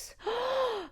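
A single sharp vocal gasp of surprise, a quick rising-then-falling breathy intake lasting under a second, close and fairly loud with no other voices.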